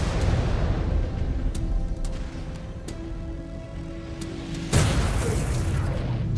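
Weapons fire from battling mechs in MechWarrior 5 Clans: repeated sharp shots crack over a steady low rumble and humming tones, then a heavy burst of blasts near the end.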